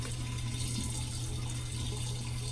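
Tap water runs steadily into a sink for face wetting, a constant splashing hiss with no pauses and no voices.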